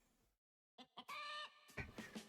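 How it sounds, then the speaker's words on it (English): Chickens cluck and a rooster crows in the game A Plague Tale: Innocence, loud and close after a short silence, a few clucks leading into a drawn-out crow followed by more clucking. "Nice bit of passive chicken noises in the back."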